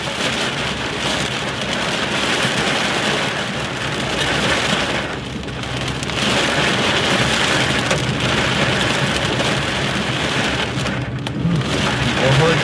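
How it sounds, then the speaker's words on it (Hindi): Heavy rain pours steadily during a thunderstorm in Punjab, a loud, dense wash of falling water that stays constant throughout with a faint rumble underneath. "बहुत ज़्यादा मींह सी"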